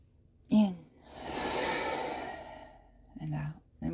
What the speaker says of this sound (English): That's an exhale.